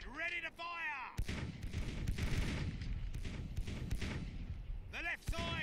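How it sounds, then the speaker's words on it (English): Ship cannon broadsides in the naval video game Sea Dogs rumble as a dense barrage of booming shots, with someone talking at the start and end over the gunfire. "I can just rain cannonballs on that thing."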